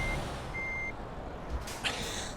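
Truck reversing beeps in Euro Truck Simulator 2, a short run of steady electronic tones over a low engine rumble, then a brief hiss like an air brake near the end, with no talking.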